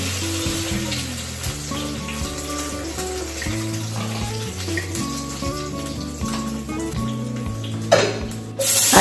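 Tapa, a cured beef, fries in cooking oil with a steady, soft sizzle, partly masked by music playing over it.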